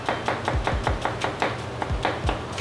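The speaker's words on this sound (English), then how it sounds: "See, we just chop them very thinly." A sharp knife slices onions very thinly on a cutting board in a rapid, even rhythm of crisp taps, close and clear with no talking.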